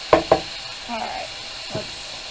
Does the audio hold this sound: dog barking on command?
no